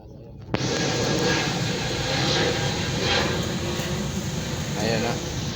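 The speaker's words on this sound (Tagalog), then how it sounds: "Mayroong eroplano dumadaan sa ating" An airplane passes overhead above a busy street in Pasay City, a steady broadband roar that swells in after a sharp onset and holds loud throughout, with faint talk beneath.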